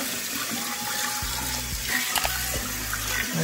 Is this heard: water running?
yes